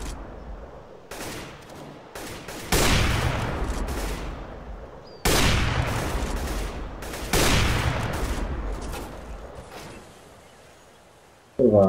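Gunfire in the video game Counter-Strike: Global Offensive, loud bursts of rapid shots in several long volleys separated by short gaps, with a sharp final burst at the very end.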